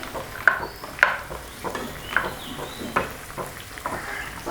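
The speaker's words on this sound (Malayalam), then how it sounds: "കശുവണ്ടി ഒരു പകുതി ഫ്രൈ ആയി വരുമ്പോഴത്തേക്ക് ഇതിലോട്ട് മുന്തിരി കൂടി ഇട്ടിട്ട് ഇത് രണ്ടും കൂടെ ഒന്ന് ഫ്രൈ ചെയ്തെടുക്കണം" Cashews and raisins frying in hot ghee in a pan, a steady soft sizzle punctuated by several sharp scraping stirs of a spoon against the metal, close and alone.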